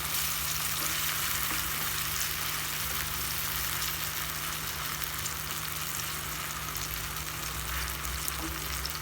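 Bananas roasting in ghee in a pan give a steady, even sizzle that carries on without a break, with no voices.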